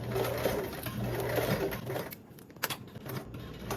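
A sewing machine runs steadily while stitching down a fabric lining for a small bag, its rapid needle chatter continuous and close, easing briefly mid-run before picking back up.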